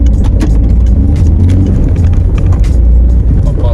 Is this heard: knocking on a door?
no